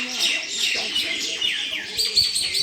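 Birds call and chirp in a bright, close chorus of overlapping tweets and short whistles that carries on steadily, with some soft background murmur but no clear talk.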